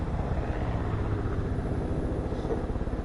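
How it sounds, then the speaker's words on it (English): An aircraft passes overhead in the video game Far Cry 5, a dense low engine drone that stays loud and steady throughout with no voices. "There's a plane that just flew over my head here."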